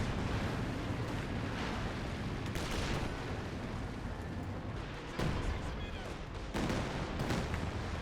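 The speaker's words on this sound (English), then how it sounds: "Katyusha opening fire" Katyusha rocket artillery firing in the winter battle game Company of Heroes 2: rumbling barrages with several sharp bursts over dense battle noise, fairly quiet overall, with a voice talking throughout.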